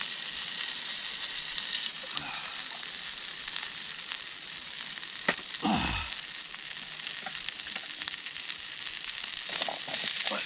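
Food sizzles steadily in hot oil on a Trangia camping stove, a continuous crackling fry with a brief louder burst partway through and no talking.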